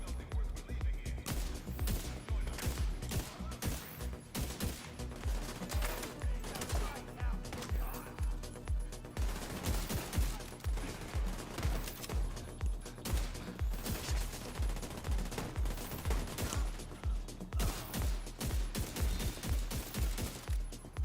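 Rapid automatic gunfire from the shooter game The Division 2 rattles in dense, rhythmic bursts for the whole stretch, loud and close, with brief gaps between volleys and a voice talking now and then over it.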